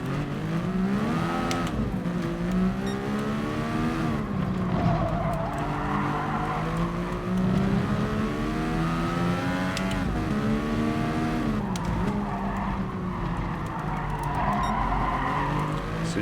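Race cars in Gran Turismo Sport scream at high revs, engines rising and falling through gear changes with tire squeal, loud and continuous from start to finish.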